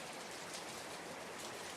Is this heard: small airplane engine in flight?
no